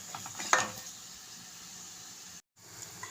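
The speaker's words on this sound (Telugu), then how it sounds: "ఇప్పుడు ఎగ్స్ బాగా వేగిపోయి రెడీ అయిపోయిందండి." Eggs fry in a pan for a spicy Rayalaseema egg and garlic dish, giving a steady soft sizzle with a few louder crackles and spatters near the start and one sudden short dropout.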